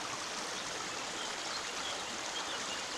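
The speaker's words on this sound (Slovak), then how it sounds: "Teraz som na moste a podobnou preteka potok" The Holubnica stream near Novoveská Huta rushes under a bridge in a constant, full hiss of flowing water, steady and moderately loud with no pauses or voices.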